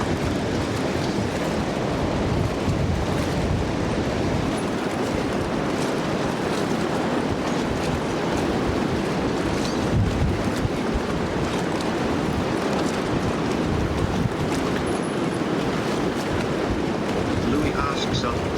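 Strong wind buffets the microphone at an outdoor fishing spot near water, a constant loud rushing roar that persists throughout with no break.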